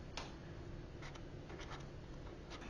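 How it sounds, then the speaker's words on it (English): A Zebra Mildliner dark gray pen writing on paper, a quiet continuous scratchy rub with faint stroke ticks, close and alone. "I want to just write the Mildliner part."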